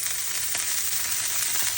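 Ragi rava dosa sizzles in oil on a hot pan, a close, steady crackling hiss with small popping spits, heard alone without any talk.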